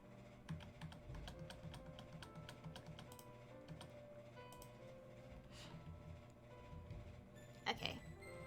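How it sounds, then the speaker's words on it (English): Computer keyboard clacking during a Maplestory gaming session, irregular quick keystrokes scattered throughout, close but fairly faint, with a louder cluster of taps near the end. "lately my keyboard is being much more annoying than it should be"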